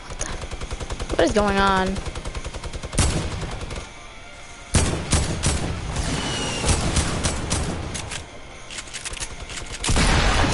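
Video game gunfire in a solo match, rapid machine-gun bursts rattling loud and close in several runs with short gaps, while a player talks over parts of it.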